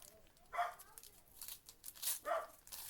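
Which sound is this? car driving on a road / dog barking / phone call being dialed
dog barking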